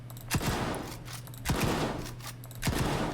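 RAM-2 rifle from Stalker 2 firing in three quick bursts of rapid shots, loud and close, separated by short pauses with a faint background hum.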